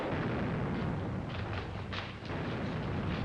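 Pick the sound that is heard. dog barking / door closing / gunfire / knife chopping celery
gunfire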